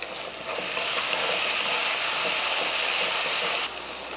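Chopped tomato dropped into hot oil with ginger-garlic paste in a pan for an elephant yam fry, a loud steady sizzle that swells in, holds for several seconds and then drops off abruptly.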